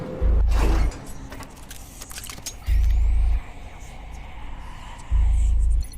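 Slow elevator in the Red Matter video game, a low mechanical rumble with heavy thumping pulses repeating about every two and a half seconds under a continuous whirring drone.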